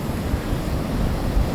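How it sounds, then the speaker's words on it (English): Big surf pounding a beach campsite on the Western Australian coast, a steady close roar of breaking waves mixed with gusty wind buffeting the microphone, with no voices. "The surf's absolutely massive"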